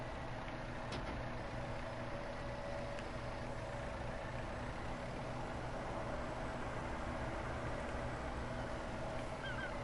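A truck drives in Farming Simulator 19, its engine giving a steady, continuous low drone throughout with no talking over it.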